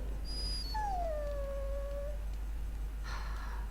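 A dog's long, high, drawn-out whimpering whine from the fantasy role-playing game Dragon Age Origins, one sustained sliding cry followed by a brief rustle against a quiet background.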